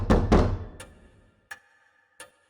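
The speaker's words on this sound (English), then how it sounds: "A knock comes from the front door." Two heavy thuds on a front door in the horror game Death Mark, followed a moment later by two faint, sharp taps, set against a quiet, still room at night.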